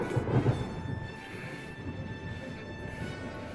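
Thunderstorm at sea in the naval strategy game Ultimate Admiral Dreadnoughts: a deep, rolling rumble of thunder swells early and fades into a steady low wash of storm and rain noise under faint sustained tones.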